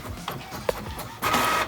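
A printer in Animal Crossing New Horizons runs in short mechanical bursts, with soft ticking and whirring that swell into a louder sustained buzz near the end, close and clear.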